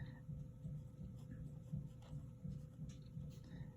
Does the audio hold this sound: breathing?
no